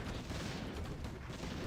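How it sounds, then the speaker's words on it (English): Booming fireworks explosions fill a Risk strategy game match, a dense, continuous rumble of overlapping blasts held at steady loudness with no talk over it. "Fireworks. Literally, my screen is blowing up right now."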